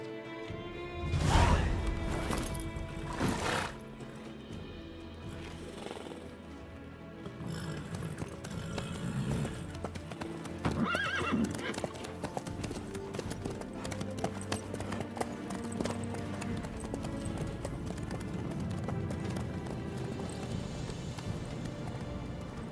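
Horse hooves clip-clop steadily across a road in The Witcher 3, joined by a few louder knocks early on and an occasional whinny, under game music and ambience.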